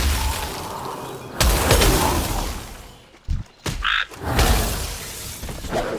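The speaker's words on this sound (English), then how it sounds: "Oh, the frog is attacking." A frog croaks in World of Warcraft, deep game croak bursts rising over a dense, rumbling background of combat and effects, with short gaps of near silence between hits.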